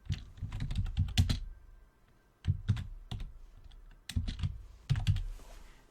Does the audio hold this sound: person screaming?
no